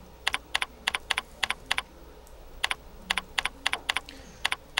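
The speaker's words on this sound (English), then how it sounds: "I'm going to type in some data" Computer keyboard typing while entering data into an Excel spreadsheet: crisp, close keystrokes in quick bursts of several clicks separated by short pauses, with no voices.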